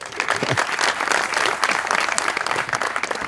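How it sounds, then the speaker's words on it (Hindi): Studio audience applause at a comedy talk show: dense, steady clapping at full volume that holds evenly for about three seconds, with no voices over it. "तालियां।"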